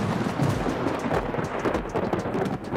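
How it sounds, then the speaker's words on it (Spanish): Thunder rumbles low and continuous alongside steady rain pattering on a surface, a moderately loud storm bed with no speech. "aprovecha los sonidos del trueno para evocar su presencia"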